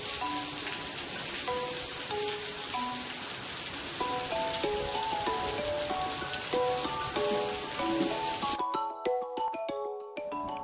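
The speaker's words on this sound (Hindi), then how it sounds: "वर्षा केते वर्षा हो पूरा बहुत वर्षा" Heavy rain pours steadily on a surface at night, a dense continuous hiss with faint melodic tones threaded through, until the downpour cuts off abruptly near the end, leaving only the tones.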